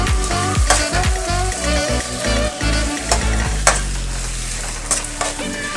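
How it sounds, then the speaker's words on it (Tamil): Shallots and garlic sizzle and fry in hot oil in a pan for a South Indian village-style fish gravy, a steady loud crackle broken by repeated stirring scrapes and clinks, with no voices. "இப்போ இந்த சின்ன வெங்காயம் வதக்கிக்கிட்டு இருக்கையிலே நம்ம இன்னும் கொஞ்சம் பூண்டு வச்சுருந்தோம்ல"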